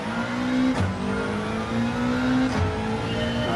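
A race car engine in Gran Turismo 7 revs hard toward 8,000 RPM, its pitch climbing in repeated pulls with brief dips at each shift, loud and continuous with no talking.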